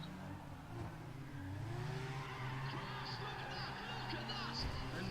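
A car in Need for Speed ProStreet with 800 horsepower and four-wheel drive revs hard at launch, its engine climbing under a steady roar with brief tire squeal, while someone talks over it.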